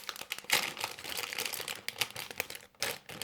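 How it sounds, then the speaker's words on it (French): LEGO Dimensions polybag packaging being carefully opened: close, continuous crinkling and rustling of thin plastic with small sharp crackles, moderately quiet and without speech. "je vais prendre mon temps pour ouvrir les polybags"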